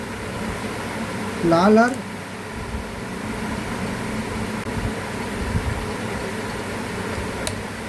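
Newly fitted ceiling fan running during a wiring connection test, a steady whirring hum that holds throughout, with a short voice speaking briefly near the start.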